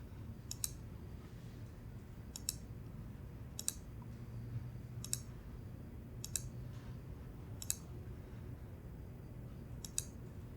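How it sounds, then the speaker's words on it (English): Computer mouse clicks on a desktop, about seven sharp, fairly evenly spaced single clicks, each alone over a low steady room hum. "I'm going to click on the desktop now."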